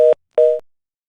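Two short beeps of a telephone busy tone after a phone interview call is abruptly hung up, a steady pitched tone repeating once with a gap, clear and alone.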